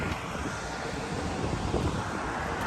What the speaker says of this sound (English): And strong wind now. A little bit of a wind.